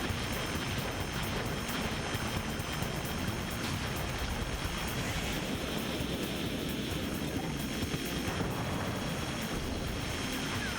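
Enemy planes fly in the Armored Core 2 video game, a steady broad engine roar that holds at an even level throughout with no talk.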